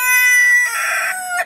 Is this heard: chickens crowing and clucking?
yes